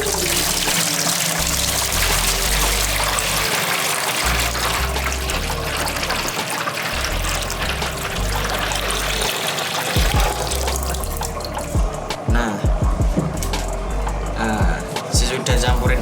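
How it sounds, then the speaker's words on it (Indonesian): Water is poured into a styrofoam container while setting up for betta fish breeding, a continuous splashing trickle under loud background music, ending in sparse drips and taps. "Kita tuang air ke dalam styrofoam tersebut."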